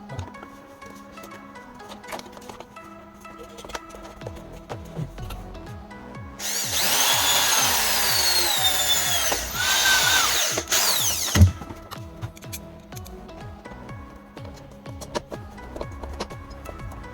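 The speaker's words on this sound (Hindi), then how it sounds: "इस ट्रांसपेरेंट सीट को अब हम इस एल्यूमिनियम के बॉक्स में स्क्रू की मदद से फिक्स" Power tool driving screws into an aluminium box to fix a transparent sheet, a loud whirring burst of about five seconds in the middle, framed by quieter workshop clatter and knocks.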